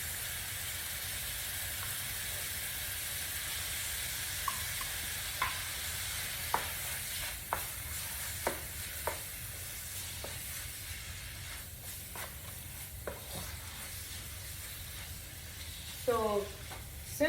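Tomato paste sizzles in a pan with ground lamb, a steady close frying hiss punctuated by scattered clicks and scrapes of stirring, with no voices.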